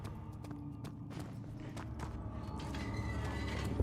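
Doors opening in Amnesia: The Dark Descent, a creaking, clunking mechanism with scattered knocks and rhythmic thuds like footsteps, building to a denser, louder rumble toward the end, heard alone with no talk.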